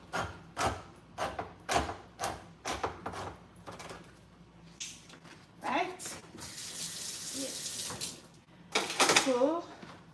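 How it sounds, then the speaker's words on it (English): Water from an opened tin of ackee poured off into a metal strainer basin in a home kitchen, coming as a run of splashy clatters and a steady pouring hiss close by, with someone talking over part of it. "I open the tin and I'm going to be throwing off this water into my strainer basin."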